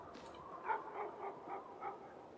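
A dog in the video game Icewind Dale 2 gives a string of short yips and whimpering barks, five or six in a row, moderately loud over a quiet background hum.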